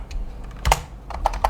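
Quick bursts of keystrokes on a computer keyboard, a few soft taps followed by a firmer clack and a small cluster of presses, close and fairly quiet, with no talking.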